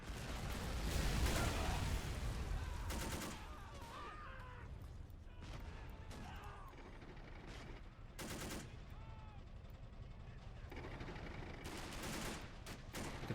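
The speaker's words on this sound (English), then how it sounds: "they're taking some 30 cal fire from somewhere though" .30 cal machine gun fire rattles in a World War II urban battle game, with bursts of rapid shots, separate booms and a steady backdrop of distant combat.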